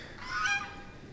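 A goose honks once in a drawn-out, fairly close call at a winter market garden, rising and fading within about a second over faint outdoor background.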